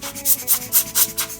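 Someone blows short, rhythmic puffs of air through a Comandante C40 coffee grinder to clear out grounds and fines, about five breathy bursts in quick succession, close and fairly soft.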